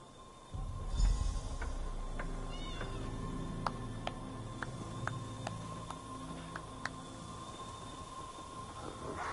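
Several cats meow repeatedly in the video game The Elder Scrolls Online: Morrowind, their cries close and fairly clear over a low background hum.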